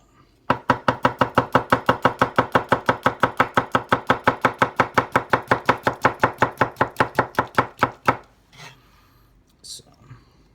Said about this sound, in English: as many thin slices as you can possibly do, using about hopefully the same portion of the knife